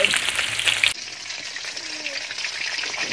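Squid frying in hot oil, a loud close crackling sizzle that suddenly drops to a softer, steady hiss, with a faint voice in the background.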